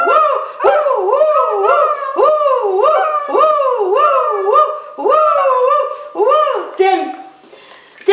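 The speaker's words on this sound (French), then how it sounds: "Ça fait aboyer le chien du coup." A dog gives a long series of loud, close, rhythmic yelping barks that rise and fall with a howling tone, about a dozen in quick succession before trailing off.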